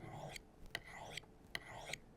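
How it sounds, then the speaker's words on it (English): A kitchen knife's cutting bevel honed against a kitchen steel, with five bright metallic zings stroked in an even rhythm, close and fairly quiet. "I'm running this knife right against the kitchen steel, right against that cutting bevel"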